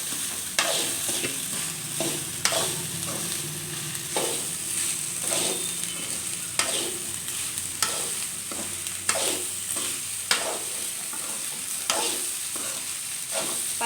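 Egg fry with chilli powder, salt, turmeric and rice cooking in a hot pan, a steady loud sizzle broken by regular scraping stirs of a spatula, close up with no voices.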